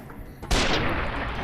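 A heavy gunshot from a rifle in Fallout: New Vegas, a single sharp loud blast followed by a long rumbling decay, with no talk over it.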